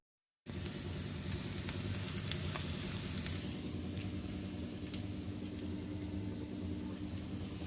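Potatoes, onions and spices fry in a pan in a Bengali kitchen, giving a steady, dense sizzle that carries on without a break, with light crackles and pops on top.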